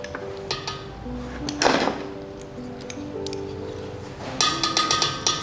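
A lid goes onto a cooking pot of mango and pointed gourd navaratna after ghee is sprinkled over it. A single metallic clatter comes midway, then a short run of sharp clinks near the end, all over a steady tonal background hum.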